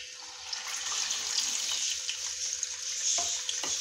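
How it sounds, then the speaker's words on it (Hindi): Chickpeas fry in plenty of hot oil over medium heat, giving a steady, dense sizzle and crackle throughout, with a couple of light utensil clinks near the end. "और मीडियम आंच पे हम लोगों ने इसको फ्राई कर लेना है"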